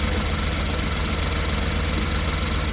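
An Ashok Leyland Dost BS6 truck engine, which has an EGR problem, idles steadily just after starting with a loud, close, even diesel rumble and no voices.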